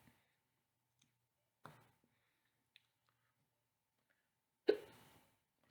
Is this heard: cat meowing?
no